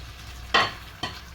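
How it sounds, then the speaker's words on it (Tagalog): Beef tongue for lengua estofado being stirred in a hot pan, two short bursts of sizzle and scraping roughly half a second apart over a quiet background hiss. "lagyan natin yung ating lingwa, dila ng baka"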